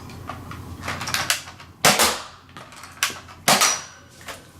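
A Nerf ZombieStrike Hammershot blaster is cocked and fired, with loud, sharp plastic snaps and clacks in a few distinct bursts, close and alone without any talking.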